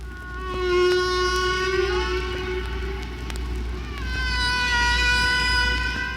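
Recorded humpback whale song: long drawn, pitched moans and wavering tonal calls, some rising, repeating across the stretch over a low steady background hum, with no talking.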